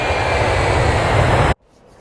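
A continuous loud roar of an airplane in flight, steady broadband engine and cabin noise that cuts off abruptly near the end into near silence.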